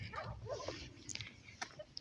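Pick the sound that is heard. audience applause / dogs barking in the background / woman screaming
dogs barking in the background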